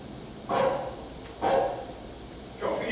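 A dog barks three times, each sharp bark spaced roughly a second apart at moderate distance, with no voices over it.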